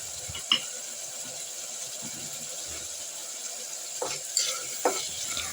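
Tomatoes cooking with salt in a frying pan for tomato bath are stirred, a soft steady sizzle under occasional scraping and clacking of the spoon against the pan, faint and close.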